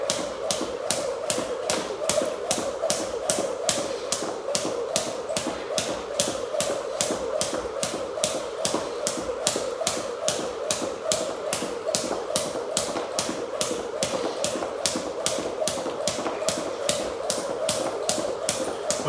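A 1/4 pound cross rope slaps the floor in a steady, quick rhythm of skips, about two light taps each second, continuing evenly throughout with no voices.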